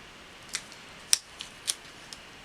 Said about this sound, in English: And then this one I am going to have to cut.